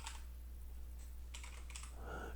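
Faint clicking of an access code being typed on a computer keyboard, a few scattered keystrokes over a low background hum.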